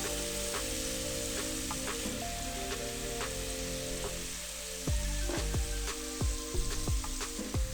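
Scallops sear in butter in a hot pan for a creamy garlic sauce recipe, giving a loud, close, continuous sizzle. Occasional soft clinks and taps come through in the later seconds.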